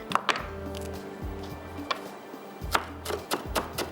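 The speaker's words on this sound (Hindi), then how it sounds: "यहाँ पे लेंगे थोड़ा सा हरा धनिया। चलो जी, बस बारीक बारीक चॉप कर लीजिएगा।" Fresh green coriander being finely chopped with a knife on a board, a series of sharp, close, irregular chops and thunks with brief pauses between bursts.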